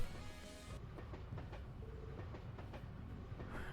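A train in the game Trails to Azure gives a continuous rumbling ride with rhythmic clickety-clack of wheels over rail joints. It is steady and moderately loud, with no talking.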